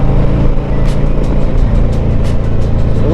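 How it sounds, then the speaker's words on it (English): A 2020 Harley Davidson Tri Glide Ultra coasting downhill on deceleration in fourth gear on a leaf-strewn road, a loud steady engine drone with wind rush and faint periodic clicks, no talk. "here we are on a decel downhill"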